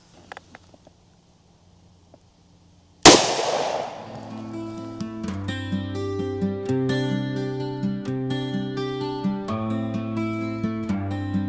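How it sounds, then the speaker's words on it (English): A single sharp gunshot from a .357 SIG 124-grain Underwood round fired into gelatin cracks loudly after near silence, followed by ringing, sustained music-like tones. "We're going to fire this round"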